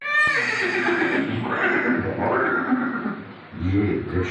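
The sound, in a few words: horse neighing, Maharana Pratap's horse Chetak, museum scene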